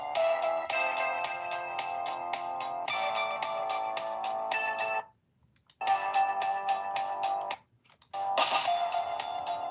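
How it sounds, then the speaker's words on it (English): A Wheelock speaker strobe sounds its notification alarm, a loud repeating electronic tone pattern played close, broken by two brief silent gaps before resuming. "Wheelock notification"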